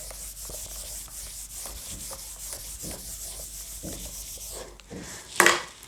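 A board being rubbed clean with repeated brisk back-and-forth strokes, close and moderately loud, ending with a sharper scrape near the end.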